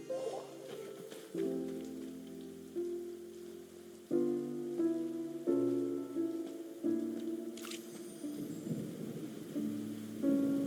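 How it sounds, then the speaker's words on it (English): Rain falling in the Genshin Impact video game, a soft steady patter on surfaces with a distant rumble of thunder, set under a layered musical score that rises and falls. "It's raining!"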